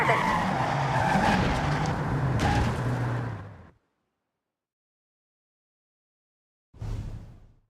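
A car in the Forza Horizon 6 racing game skids hard to a stop, a loud tire-and-engine roar for nearly four seconds, then silence before a brief engine rumble returns.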